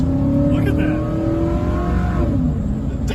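A cheap pickup truck bought off Marketplace, with a dry transmission pan and transfer case seals, revs hard as it accelerates, a loud steady engine roar rising in pitch with people talking over it.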